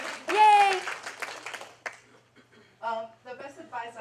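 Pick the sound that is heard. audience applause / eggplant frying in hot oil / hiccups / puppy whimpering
audience applause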